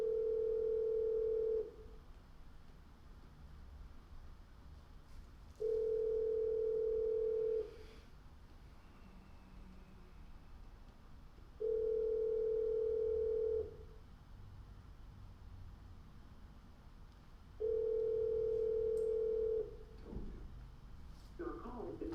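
Repeated telephone tones sound over a call line while someone tries to reach a city council member; steady beeps of about two seconds each recur four times at regular intervals, with quiet line noise between them.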